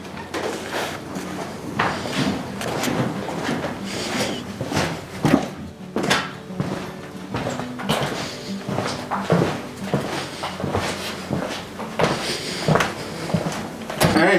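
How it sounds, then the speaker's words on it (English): Footsteps descend a creaky stairwell from old guards' quarters, a steady run of knocking treads with wooden creaks and thumps, close and moderately loud, continuing throughout with no voice. "I'm coming down this creaky stairwell from the guards' quarters"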